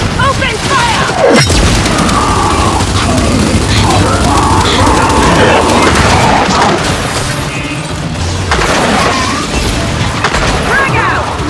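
Gunfire and explosions in Gears 5 Hivebusters: loud, dense bursts of shots and booming blasts crash continuously through the scene, with a sharp impact near the start and another flurry of blasts later.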